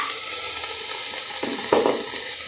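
Marinated meat and thinly sliced onions sizzle steadily in a little hot oil in a pan, a constant crackling hiss with a brief louder spit as pieces go in.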